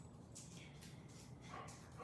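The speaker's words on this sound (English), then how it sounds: "All right, my dog must hear somebody." A dog barking in a quick series of about five faint yips and barks, distant and muffled, heard alone in a quiet room.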